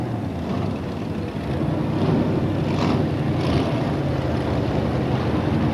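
F1 stock cars rolling off at the start of a 1985 consolation race at Odsal Stadium, a steady, loud, distant engine roar blended with broad rumbling noise that swells slightly after the first second.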